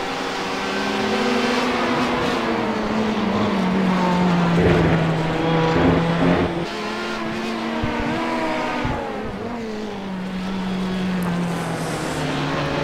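GTE-class supercars racing around the Nurburgring GP circuit, loud engines droning continuously with rising and falling pitch as several cars pass close by, with no talk over the noise.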